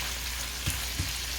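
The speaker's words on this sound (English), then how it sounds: "saute up some bacon" Bacon pieces sauteing in a pan give a steady crackling sizzle, with two soft taps or pops partway through and no talk.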